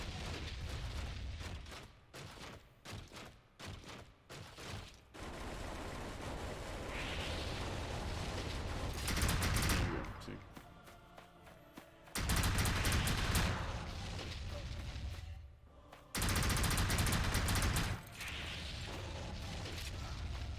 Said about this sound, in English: The game kicks me out of the mech for some reason, and I'm running around shooting